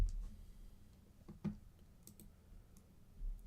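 Faint, sparse keystrokes on a computer keyboard, a few quiet irregular clicks over a low background hum, with no talking.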